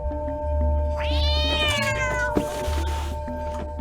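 A cat in the video game Stray lets out one drawn-out, rising meow over steady game music and ambience, clear and close.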